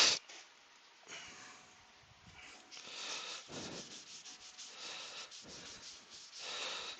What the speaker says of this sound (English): I'm going to have to rub it in because you can't get it on properly if not